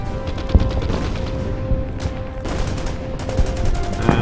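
Battle sounds from the strategy video game Order of Battle: Pacific, with dense bursts of rattling gunfire and scattered booms that continue steadily at moderate loudness.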